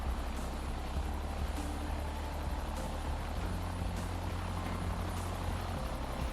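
A helicopter in a flight simulator game flies a tour over Peruvian volcanoes and Lake Titicaca. Its loud, continuous engine drone and rotor hum carry a slow, regular pulse of blade thumps, with no talking.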